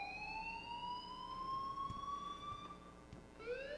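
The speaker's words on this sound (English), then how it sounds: "please turn off that alarm since that's your job" Electronic fire alarm in the video game Life is Strange, a steady high rising tone with bright harmonics wailing continuously at moderate level, with a brief retriggered sweep near the end and no talk.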